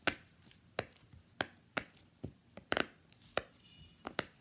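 A giant pop it fidget toy being pressed, each bubble giving a sharp, crisp pop at an irregular, roughly half-second pace, about a dozen clicks in all, close up with no talking.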